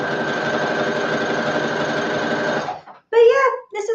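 A sewing machine runs in a steady, continuous stitching burr for nearly three seconds, sewing fabric with loosened tension and a longer stitch length, then stops and a voice speaks briefly afterward.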